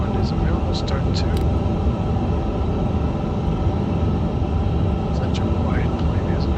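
An Airbus A350 engine (Inibuilds model) spools up in a flight simulator, producing a steady, dense rumble and hiss that holds at an even level throughout.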